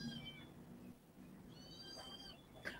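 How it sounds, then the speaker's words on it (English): A kitten meows faintly inside a house, a few thin high cries spread across the moment over a low background hum, with no talking. "Oh my god, a kitten actually has come inside my house."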